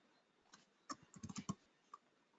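Typing a name on a computer keyboard: a few scattered key taps, then a quick run of clicks and one last isolated tap, close and quiet with no voices.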